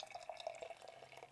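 Hop Butcher Mirror Ball, a hazy beer, is poured with soft, close liquid trickling and dripping, quiet and brief with light gurgles.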